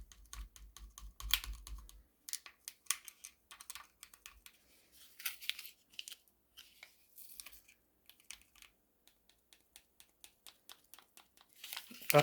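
Drink mix packet torn open by hand with crinkly, papery rips and rustles in short, irregular bursts, close and fairly quiet, with brief pauses between handling noises.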